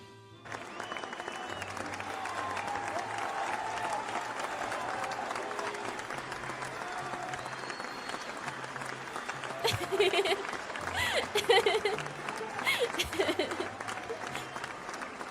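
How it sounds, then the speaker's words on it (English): A sitcom-style applause and cheer track plays back at low volume, a long, even wash of crowd clapping with occasional swells of cheering, while a voice speaks faintly over it. "We have achieved the ideal volume for round of applause, laugh track."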